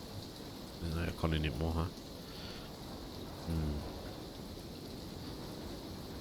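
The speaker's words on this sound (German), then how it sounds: "Wie nervt das gerade, dass jetzt so ein Regenschauer ist, Alter." A steady rain shower hisses continuously in the survival video game Icarus, a soft wash of falling rain filling the background while someone talks briefly over it.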